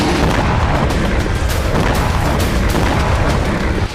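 Russian missiles blast Kyiv in a dense, unbroken roar of heavy booms and rumbling detonations, loud and saturated throughout before dropping slightly at the very end.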